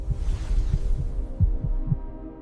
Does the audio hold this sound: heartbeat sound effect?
yes